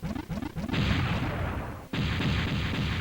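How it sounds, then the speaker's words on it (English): A rolling sub-weapon in Megaman Legends 2 rumbles along the ground in a few quick thuds, then bursts into a loud, sustained blast that fades before a second sharp explosion cuts in and roars on. "Rolls along the ground until it touches the enemy and it then explodes."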